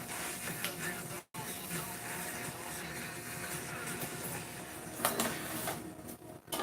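A loudly running air conditioner fills the room with a steady, dense, broadband whooshing roar that cuts out for an instant near the start and then carries on unchanged.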